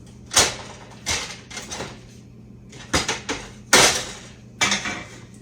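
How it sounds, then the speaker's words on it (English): Ginger snap cookie dough is mashed down on a cookie sheet, giving a series of sharp metallic clanks and taps at uneven intervals, close and fairly loud, with no talking. "I'm going to mash them down with this time"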